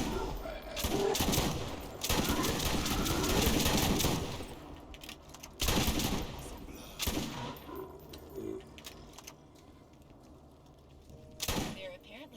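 Explosive shotgun blasts in the shooter Borderlands arrive in loud, crackling bursts, a dense cluster early on, then scattered single shots and short volleys separated by quieter gaps.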